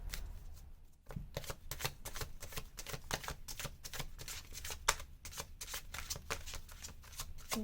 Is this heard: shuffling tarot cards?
yes